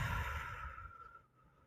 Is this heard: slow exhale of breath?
yes